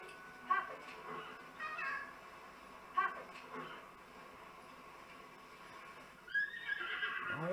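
A horse neighs in Zelda Tears of the Kingdom, several short whinnies scattered through the clip and a longer rising neigh near the end, fairly faint under game ambience.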